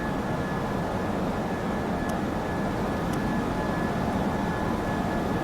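Steady airplane engine roar after takeoff in the Prepar3D flight simulator, a broad constant drone with a faint high whine, loud and continuous with no talking.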